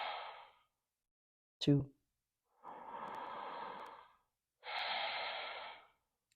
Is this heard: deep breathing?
yes